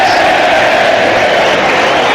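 A dense football crowd roars and cheers at the Sheffield United versus Wednesday derby, a loud continuous wash of voices filling the stadium.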